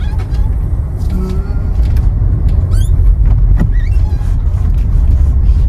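A car's loud, steady engine rumble fills the space up close, with faint high squeaks and chirps flickering above it.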